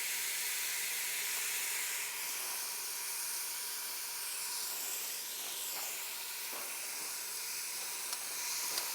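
Meat sauce frying in a pan for a casserole, a steady bright sizzle and hiss running the whole time with small pops and crackles, close and continuous, no voice over it.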